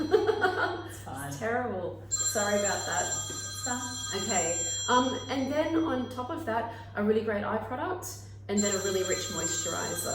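A phone rings in repeated trilling bursts, several electronic rings spaced a few seconds apart, running under someone talking steadily nearby.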